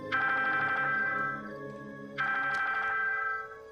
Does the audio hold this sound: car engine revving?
no